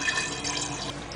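Water keeps trickling and hissing inside a full toilet tank with a sticking float, a steady close running-water sound with faint drips, no voices.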